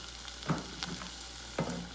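Melted butter sizzles softly in a pan over a low flame, with a few scraping stirs of a utensil breaking through the steady crackle.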